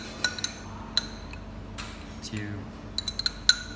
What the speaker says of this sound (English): You add 3 full spoon coffee powder into the coffee filter.